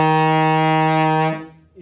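A trombone holds the E flat in third position, the slide out near the bell, as one steady sustained tone for about a second and a half before cutting off.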